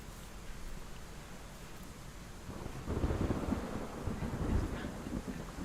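Thunderstorm at sea: a steady wash of rain and wind noise, then a deep rumble of thunder swelling from about three seconds on and rolling loudly to the end, no voices.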